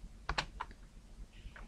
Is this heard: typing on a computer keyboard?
yes